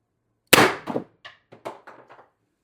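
An X-68 Storm Trooper air rifle fires one sharp, loud shot, followed by a handful of fainter metallic clatters and taps in a quiet setting.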